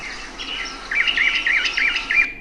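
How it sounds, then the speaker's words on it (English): A northern mockingbird sings from a dataset recording, a run of repeated bright chirping phrases in quick rhythmic succession, close and clear over faint background hiss. "So now you can see the bird species as northern mockingbird"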